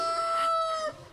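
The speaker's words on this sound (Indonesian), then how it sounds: "Seketika itu juga ayam berkokok." A rooster crows once in a Sunday school Easter play at Gefima church, a clear, loud, drawn-out cock-a-doodle-doo that holds its pitch for most of a second before dropping away.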